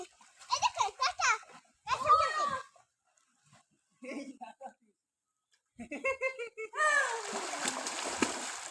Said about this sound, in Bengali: আমি এখন ডুব দিব।